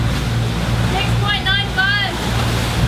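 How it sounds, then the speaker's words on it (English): A sailing boat motoring on both engines through waves off southern Italy, a loud steady engine drone with rushing water and wind throughout, as a voice briefly speaks over it. "we've got both engines on and we're just trying to power over to"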